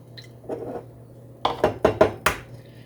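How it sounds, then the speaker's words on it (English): Two eggs are cracked one after another into a separate bowl in a home kitchen while making homemade waffles. A few sharp, close taps and cracks come in a quick cluster, with softer handling noises before them. "I try to break them in a separate bowl in case one is bad."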